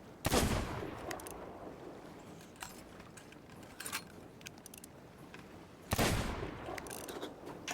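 Two sharp, loud gunshots in the Sea of Thieves game, one near the start and another about five seconds later, each with a short ringing tail, separated by quiet ambient noise and faint clicks.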